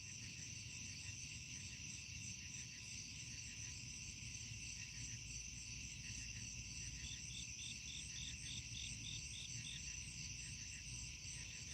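Crickets chirp at night by the water where people are carp fishing, a steady layered trill of many insects that keeps pulsing throughout without a break, faint and fairly distant, with no voices.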